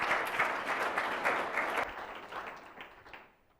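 A hall audience breaks into sustained applause greeting Paul Rogers, director of the Western Aspen Alliance, with dense clapping that holds steady and then thins and fades out toward the end.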